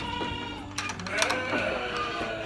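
A herd of about seventy goats along with some sheep bleat on a farm set in an oil palm plantation, overlapping wavering calls near and far over steady background noise.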